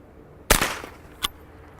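Ithaca Model 49 single-shot .22 rifle firing at a soda can: one sharp, loud crack with a short decay, then a smaller, quieter snap about three-quarters of a second later.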